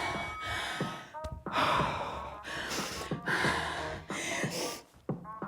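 Heavy, labored breathing after a home workout with gliders: a run of loud gasping inhales and sighing exhales close to the microphone, irregular and breathless, with no speech.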